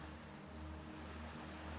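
Ocean waves wash onto a tropical beach with a steady, soft roar of surf and low rumble, continuous and fairly faint, with no distinct breaks between swells.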